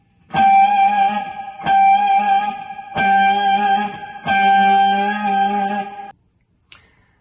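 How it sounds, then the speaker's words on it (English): Loud distorted electric guitar notes at the 5th fret of the 4th string struck four times in an even rhythm, each held and buzzing, then cut off, followed by a brief faint click. "Here's number 4, C with distortion."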